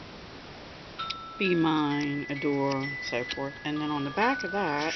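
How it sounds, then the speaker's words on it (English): A mobile phone ringtone sounds as thin, steady electronic tones running beneath a person's continuous talk, faint and partly masked by the voice. "sorry about my phone"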